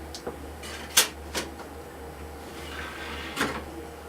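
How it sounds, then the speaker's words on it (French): A CD player tray loads a disc with a few soft mechanical clicks and a sliding clunk, spaced out against a quiet background hum. "Et vous installez votre CD dans la machine."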